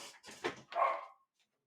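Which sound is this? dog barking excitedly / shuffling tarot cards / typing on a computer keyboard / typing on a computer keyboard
dog barking excitedly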